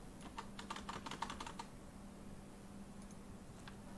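Quick flurry of computer keyboard keystrokes typing a text prompt, close and fairly quiet, clustered in the first second and a half, then a couple of isolated taps over a low steady hum.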